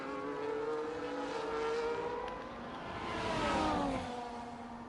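Formula 1 cars in the F1 24 racing game at the Hungary circuit, engines droning steadily with rising and falling pitch sweeps as cars pass, continuous and fairly loud.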